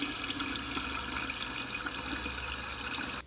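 A glass being filled with water from a kitchen tap, a steady close rushing pour lasting about three seconds before cutting off abruptly.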